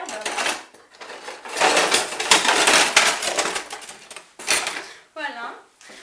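A small kitchen knife works through fresh herbs, busy clattering and chopping knocks on a board mixed with utensil clinks, close and fairly loud, with talking over it.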